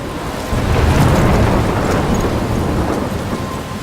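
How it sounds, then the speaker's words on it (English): Heavy thunder rolls in from a thunderstorm in the video game Life Is Strange, a deep rumbling swell rising sharply after a brief pause and lingering over a steady wash of rain. "I'm trapped in a storm?"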